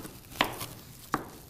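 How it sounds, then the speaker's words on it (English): A knife chops vegetables into julienne strips for a garnish on a cutting board, two sharp separate knocks about three-quarters of a second apart over a quiet room. "there's a lot of chopping"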